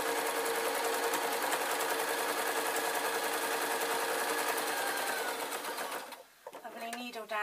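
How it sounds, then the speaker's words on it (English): Sewing machine stitching a waistcoat seam, a fast steady mechanical whirr and rapid needle clatter running continuously, then slowing and stopping near the end, followed by a short burst of handling noise. "then I can start sewing again from the same point"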